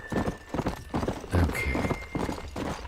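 Horse hooves clip-clopping in the western video game Red Dead Redemption, a rapid rhythmic series of close hoofbeats with a brief whinny partway through, no talk over them.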